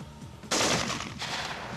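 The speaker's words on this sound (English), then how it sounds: "Three 3-round bursts from the M16 fired directly at the cinder block wall" M16 rifle firing three-round bursts at a cinder block wall during a military shooting test, a sudden loud crack of gunfire with rapid shots, a second burst soon after, and echoing reverberation between them.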